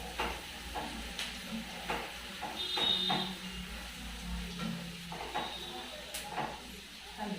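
Onion pieces frying in a pan until golden, a steady soft sizzle and hiss with occasional stirring scrapes, heard close and moderately loud throughout.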